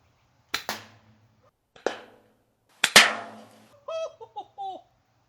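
A Nerf underslung launcher fires Demolisher rockets at a close target in three sharp, loud pops spaced about a second apart, with a brief burst of laughter-like chatter afterward.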